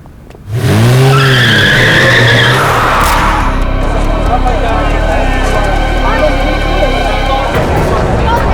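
A recklessly driven car skids with a sharp, wavering tire squeal, then runs into a loud, sustained roar of engine and tires that continues close and steady to the end.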